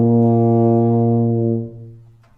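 A tuba in E flat sustains a single deep, loud note close up for about a second and a half, then the tone fades away, with no voices.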